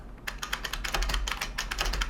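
Rapid typing on an IBM Model F keyboard, its keys snapping down and back up in quick crisp clicks, close and distinct, in an irregular burst of keystrokes with no voice over them.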